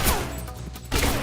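Video game gunfire crackles in two dense bursts, one at the start and a louder volley near the end, with a quieter stretch between and no voices.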